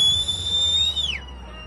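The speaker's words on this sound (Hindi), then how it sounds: "सीटी बजती सुनाई दे रही है।" A warning whistle shrills steadily as a flash flood from a cloudburst approaches, a single high sustained tone that bends downward and fades after about a second, heard over a low rumbling background.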